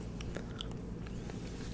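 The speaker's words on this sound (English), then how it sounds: "I'm actually chewing the same exact flavor right now." Gum, a wintergreen flavor, is chewed close to the microphone: soft wet smacks and small crunchy clicks repeat irregularly over a quiet, steady background, with no talking.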